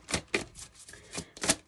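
Oracle cards being shuffled in quick, close riffling bursts, about five short papery flurries with brief gaps between them.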